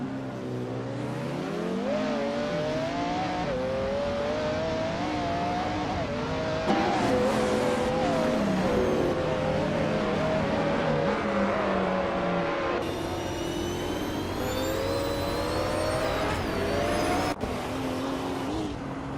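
Race cars roar continuously in a video game race, engine notes rising and falling through gear changes with occasional tire squeal, loud and layered as several cars run close together.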